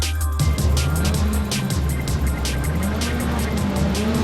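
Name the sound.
touring cars starting a British Touring Car Championship race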